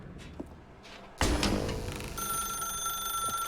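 A telephone in the video game The Stanley Parable starts ringing abruptly after a quiet lead-in, a loud, steady electronic trill that continues unbroken to the end.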